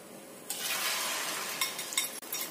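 Tofu dropped into hot cooking oil in a pan, breaking into a loud, steady sizzle and crackle that continues with a few sharper pops and bumps, close and alone.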